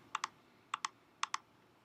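A computer mouse clicks in three quick double-clicks, evenly spaced and close, while students are selected in Canvas in a quiet room with no speech.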